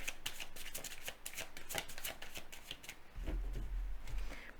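Large tarot cards being shuffled by hand, a dense run of crisp riffling flutters and paper slaps that stays steady, then thickens with a low thump near the end.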